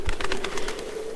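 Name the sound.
bird flapping its wings loudly, from video game Tiny Bunny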